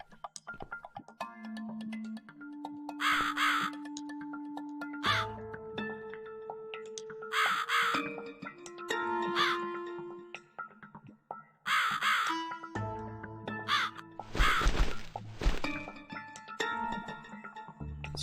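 A crow caws repeatedly in the video game The Cat Lady, harsh bursts spaced irregularly over sustained game music tones, with one louder, denser cry near the end.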